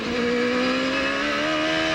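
CART Indy-style race cars at the 1995 Portland round, a loud high-revving engine whine climbing steadily in pitch for about two seconds, close and alone without commentary.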